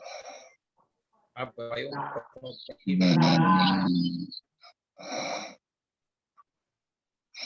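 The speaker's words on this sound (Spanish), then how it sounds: "Creo que hay uno roncando" Someone in an online class snores loudly and low, a rumbling drawn-out snore in the middle of the clip, with brief fragments of speech before and after it.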